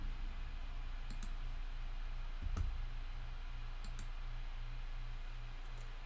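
Paired computer mouse clicks selecting corners in CAM software, a few sharp double clicks spaced over a steady low electrical hum, faint and close.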